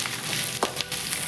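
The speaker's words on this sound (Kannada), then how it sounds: "ಹಸಿಮೆಣಸಿನ್ಕಾಯಿ, ಹಾಗೆಯೇ ಶುಂಠಿ ಬೆಳ್ಳುಳ್ಳಿ ಫಸ್ಟು ಫ್ರೈ ಮಾಡ್ಕೋಬೇಕು." Green chilli, ginger and garlic frying in a generous amount of oil give a loud, steady sizzle that fills the moment, with a few brief stirring scrapes breaking through.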